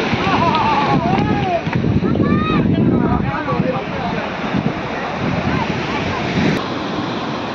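Sea waves at high tide on Digha beach surge and crash in a continuous loud wash with wind buffeting the microphone, while faint voices carry in the background.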